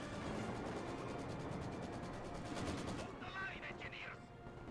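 Dense, continuous gunfire from a World War II battle in Company of Heroes 2 rattles without pause, rapid machine-gun bursts and rifle shots layered into a loud, thick barrage that thins after a few seconds, with faint voices underneath.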